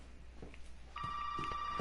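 Electronic telephone ring in Resident Evil 7 sounds once in a steady sustained tone, fairly clear over a low room hum, starting partway through.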